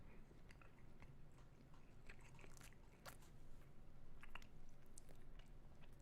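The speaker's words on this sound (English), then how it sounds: "Sorry for the chewing." Someone chews food right at a microphone, with quiet, irregular crunches and wet clicks repeating over several seconds against a low hum.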